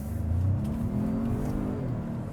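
A 2025 Ford Maverick Lobo truck accelerating at full throttle from inside the cabin, a steady, loud engine drone with a rising whir that holds for a couple of seconds, no talking over it.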